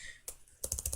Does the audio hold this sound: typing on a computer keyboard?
yes